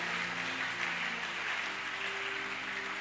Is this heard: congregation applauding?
yes